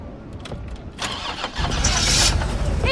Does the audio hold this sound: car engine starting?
yes